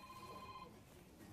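A telephone rings in a room during a lecture: a short, quiet electronic tone that rings for under a second and then stops, leaving faint room noise.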